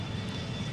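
Boeing 757 jet engines in the Extreme Landings Pro flight simulator, a steady broadband roar with a low rumble, continuous and fairly loud, with no talk over it.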